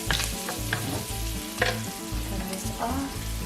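Bacon bits fry in an oily pan, a steady crackling sizzle with scraping stirs and occasional pops, close and loud, with no talking.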